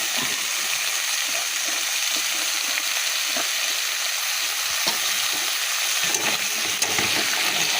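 Potatoes fry with salt and turmeric in a pan, giving a steady, dense, close sizzle with small crackles and pops that run without pause and no one speaking.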